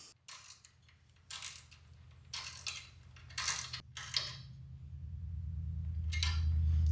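Small metal bolts on a seat post bottle adapter are tightened on a carbon Canyon Speedmax bike, giving several short, close clicks and scrapes in separate bursts over a low steady hum.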